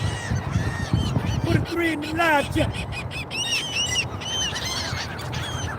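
A pet goose honks repeatedly in a quick run of nasal calls, close and loud, mixed in with someone talking over it throughout.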